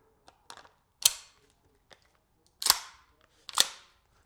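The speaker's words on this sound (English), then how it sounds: "Let's just do one test shot just to see if it works." A gas airsoft gun fires test shots through a chronograph, giving several sharp, close pops with brief metallic clicks in between, spaced irregularly across a few seconds.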